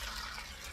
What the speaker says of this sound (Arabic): تنزلي عليه بقى بميه مغليه